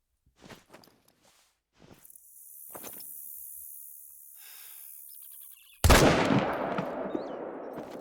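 A sharp, loud rifle shot bursts out in theHunter: Call of the Wild, ringing into a long decaying echo across wooded hillside after a quiet stretch of soft footsteps and insect-like hiss.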